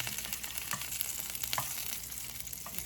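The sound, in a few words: salmon and shrimp sizzling in oil in a pan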